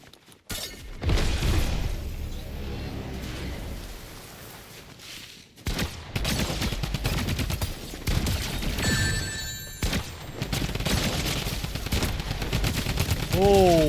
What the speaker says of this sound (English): I like this drum gun.